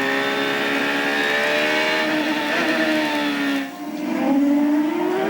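Onboard with Michel Jourdain's CART race car during 2003 qualifying at Monterey: a loud, close, high-pitched engine wail holding steady, then briefly easing off before climbing again with rising revs.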